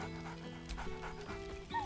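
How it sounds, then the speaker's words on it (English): Scratch, a dog in Baldur's Gate 3, gives a few short, bright barks over a steady game soundtrack, a brief whine-like tone near the end. "Scratch barks merrily in something like agreement."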